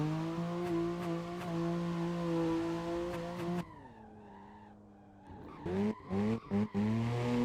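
A BMW E92 in Assetto Corsa, driven on the Şile road, slides sideways with its engine roaring and tires skidding, quieting briefly before renewed squealing bursts and throttle blips.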